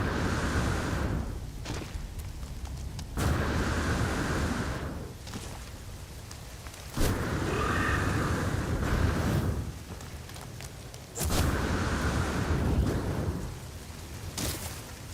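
Heavy rain and rolling thunder on an extreme storm planet in the video game No Man's Sky, loud and continuous, with several deep thunder surges swelling and fading across the whole stretch.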